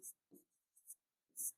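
A pen or chalk scratches out a few quick, quiet strokes on a board, in short separate bursts with soft vocal sounds between them.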